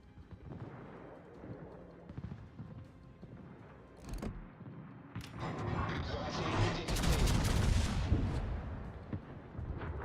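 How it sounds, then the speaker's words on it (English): Heavy warship main-battery guns fire in World of Warships, a dense rumbling salvo of overlapping booms that swells louder toward the end, with someone talking over the battle noise. "That was a good looking salvo."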